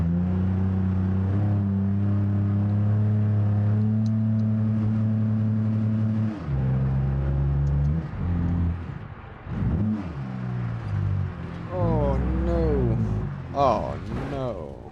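A 1964 Gavril Bluebuck 232 in a video game drones along in second gear at low speed, its engine humming steadily and then rising and dipping in uneven revving, with someone talking over it throughout.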